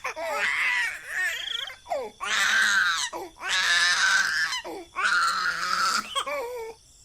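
A baby girl wails and sobs in loud, drawn-out cries broken by short gasping pauses, used as a sound effect in a horror story.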